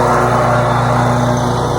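A lawn mower runs steadily and loudly close by with a constant engine drone while it mows grass in spring, with no break and no voices.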